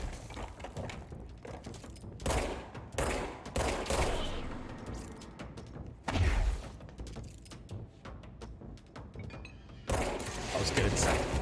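Rocket launcher fire in the video game Control, dense bursts of explosive blasts and crackling gunfire in a chaotic firefight, loud hits repeating irregularly, with someone talking in between.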